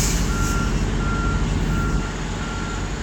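A truck's reversing alarm beeps steadily at a regular pace over a loud, continuous engine rumble nearby, with no talking.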